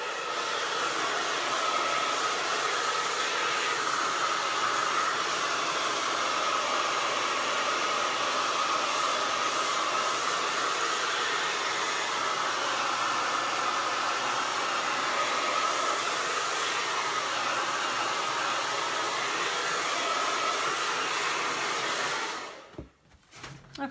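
A hair dryer blows on a painted gingerbread man in a loud, steady, whooshing drone for over twenty seconds before being switched off and clattering down.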